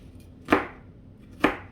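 A knife chops pizza egg roll ingredients such as mushrooms on a board with two sharp, separate thuds about a second apart, close and clear with no talking.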